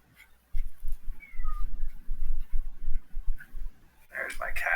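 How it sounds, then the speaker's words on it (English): A needy house cat crying and meowing for its owner, several short close meows over soft talk and room noise, ending in a louder, drawn-out howl. "there's my cat crying for me"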